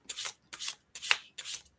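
A deck of tarot cards is shuffled in four quick riffle-like bursts with short pauses between them, papery and close, with no talk.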